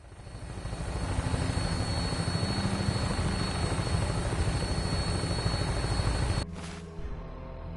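Aircraft on final approach in the video game Fallout 4, a steady loud engine and rotor drone that builds over the first second, holds, then cuts off abruptly into quieter hum near the end.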